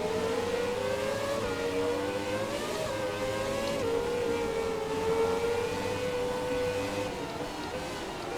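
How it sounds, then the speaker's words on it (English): Williams FW18 Formula 1 engine in F1 2017, screaming at high revs through a fast corner with wheelspin, a loud sustained whine wavering in pitch as the tyres slip, with no talking. "Wheel spin all the way through what is a very high-speed corner in the dry."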